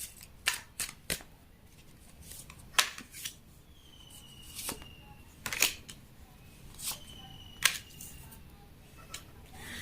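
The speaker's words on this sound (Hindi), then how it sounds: "आपके लिए भी कार्ड निकालेंगे और आपके पर्सन के लिए भी" Tarot cards shuffled and drawn at close range, a run of sharp irregular snaps and flicks spread over about ten seconds against a quiet room.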